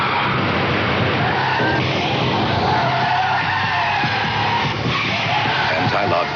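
A BMW 528e brakes hard with anti-lock brakes, giving a loud, continuous tire skid and squeal that stays close and steady with no letup.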